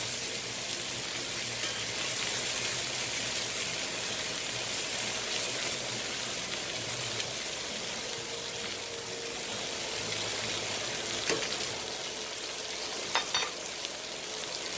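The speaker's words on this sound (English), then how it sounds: "we'll put our mushrooms in and get them warmed up" Mushrooms sizzle in butter in a cast iron pan alongside steaks, a dense continuous crackling hiss close up, with a few sharp pops and faint clinks of a utensil near the end.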